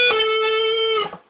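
Electric guitar sustaining a single held note at the 15th fret from the riff, clean and steady for about a second before a brief slide and decay.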